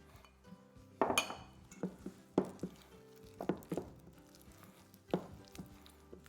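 Granola bar ingredients, dates and dried ingredients, are stirred together in a bowl, giving soft scraping and light clinks of a utensil against the dish in a loose, irregular rhythm, quiet and close.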